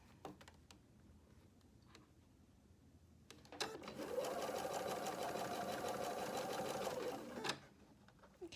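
A sewing machine stitches a shirt yoke seam with a straight stitch. A few faint clicks come first, then a steady, close, rapid whir for about three seconds before it stops.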